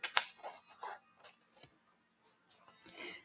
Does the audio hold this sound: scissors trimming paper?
yes